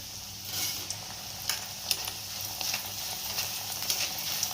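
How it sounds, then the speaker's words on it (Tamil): Cornflakes mixture ingredients deep-frying in hot oil inside a sieve give a steady, close sizzle with scattered sharp crackles and pops. "பாருங்க நல்லா பொரிஞ்சு வருங்க."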